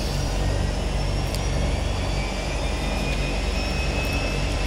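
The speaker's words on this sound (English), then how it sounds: "then we can start up the left engine just as easily" The left turbine engine of a Beechcraft Turbine Duke spools up with a loud, steady roar and a rising whine, continuous and close for the whole stretch.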